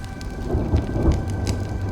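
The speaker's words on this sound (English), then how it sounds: "When will this rain ever stop?" Rain and thunder sound in the video game Honkai Star Rail: a dense, loud downpour with low rumbling thunder beneath it over a brief stretch.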